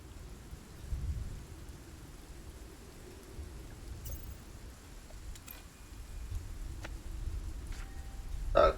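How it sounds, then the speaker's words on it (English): Storm ambience from the fantasy game SpellForce 3 Reforced: steady rain-like wash with low rumbling swells, a soft thunder roll near the start, faint crackles throughout, no talking. "A storm."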